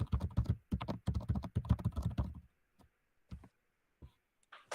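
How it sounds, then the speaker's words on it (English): Hard tapping on the side of a computer screen, a quick burst of dense clicks for a couple of seconds, then a few sparse isolated taps, close and fairly loud. "I was tapping the side of the screen"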